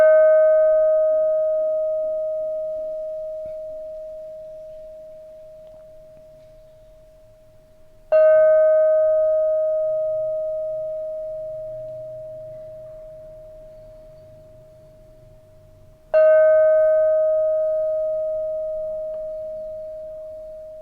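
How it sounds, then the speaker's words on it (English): A bell tuned to E flat is struck three times at even intervals, each strike a clear ringing tone that slowly decays over about eight seconds, heard alone with faint background noise. "So let's ring the bell. It's Neptune's bell after all, because it's his note. It's the lovely E flat"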